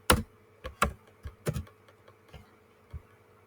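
Computer keyboard keys clatter while HTML heading tags are typed, a handful of sharp, close clicks at first, then lighter and more scattered keystrokes over a faint steady hum.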